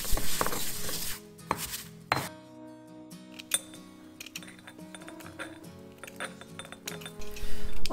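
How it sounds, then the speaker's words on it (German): Dried herbs and plants such as mint being mixed together for homemade tea, giving scattered clinks, light rustles and tapping knocks close by, with a few sharper bursts and quieter stretches between. "Ich mische die Kräuter und Pflanzen ungefähr in einem gleichen Verhältnis."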